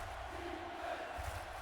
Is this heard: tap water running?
no